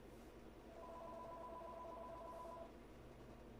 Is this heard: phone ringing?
yes